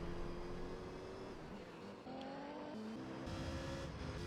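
A Corvette C5R and a Viper GTS-R race in Gran Turismo 3, their engines droning loudly and continuously with shifting pitch as the cars accelerate and change gear, with a faint tire squeal.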